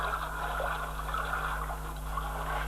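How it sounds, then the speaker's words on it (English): Steady rushing and gurgling of a river eroding its banks in the Laukhua area of Assam, a continuous broadband water noise with a low rumble underneath, no distinct breaks. "the river eroding its banks, the river"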